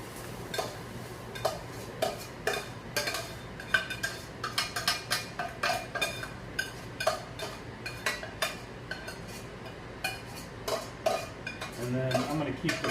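Cooked vegetables are scraped from a pan into a pot of red beans over high heat, a quick run of close metallic spoon taps and scrapes against cookware, irregular and clattering, with a faint sizzle near the end.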